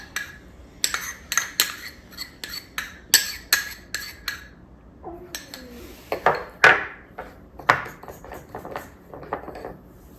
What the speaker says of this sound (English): I'm going to get a tablespoon here or a spoon and get all this chili sauce out of this little bowl here